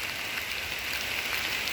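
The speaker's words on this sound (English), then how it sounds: "I'm here in the woods in a very heavy rainy day" Heavy rain falls in the woods, a steady, dense hiss of drops on leaves and ground with no break.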